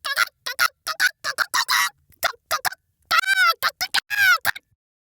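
A voice imitates a hen's high-pitched cackle after laying an egg, a string of short, choppy squawking bursts with a drawn-out rising cry near the end.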